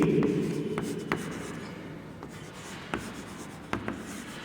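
Pen or marker writing notes on a board during a physics lecture on magnetism, a steady scratchy stroking with a few sharp taps between strokes, close and continuous with no talking.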